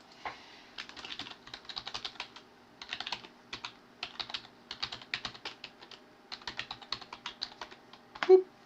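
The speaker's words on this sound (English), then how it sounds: "I'm going to type my email address in here." An email address tapped out on a computer keyboard: close, crisp clicks in quick bursts with short pauses between, ending in one firmer keystroke.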